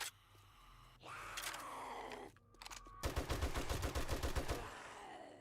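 Rapid automatic gunfire in the survival video game 7 Days to Die, a dense burst of sharp, loud shots in quick rhythm over about two seconds, following groans and creaking game sounds; no talking.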